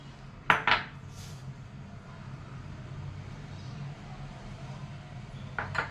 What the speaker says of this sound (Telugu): ఇప్పుడు అన్నీ మిక్స్ చేసుకోవాలి.